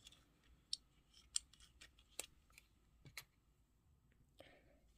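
Scissors snip yarn at the finished end of a crochet scarf, a few sharp, quiet cuts and clicks spaced apart in a hushed setting.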